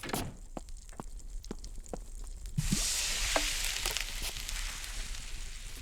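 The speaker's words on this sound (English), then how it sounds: "Add the broth to the pan." Broth poured into a hot sizzling pan in the cooking game Cucina Stellata: a brief louder splash and hiss of frying that swells, then holds as a steady crackle, following a few soft taps.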